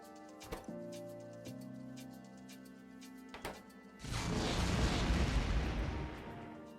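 Turret guns fire in a modded Factorio game with Krastorio 2 and Space Exploration. A few sharp isolated shots and tones come first, then a dense rumbling barrage of rapid fire swells and keeps going.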